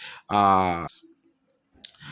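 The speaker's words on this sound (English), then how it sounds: "I'm clicking it and the page is now open" A computer mouse is clicked on a web page link, a couple of quick faint clicks near the end, after a short loud tonal burst and a quiet pause.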